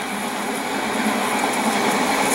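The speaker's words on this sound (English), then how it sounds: "while we're up here listening to the gentle rumble of the train" Gentle, steady rumble of a passing train heard from a garden, a continuous broadband roar at constant loudness with no talk.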